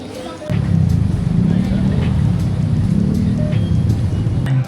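Steady low road rumble and engine hum from inside a moving car, constant and fairly loud, with a voice speaking over it.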